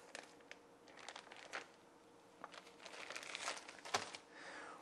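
Plastic bag crinkling and rustling in bursts as two lengths of water ionizer hose and a small inline pre-filter are pulled out, with a few sharper crackles near the end.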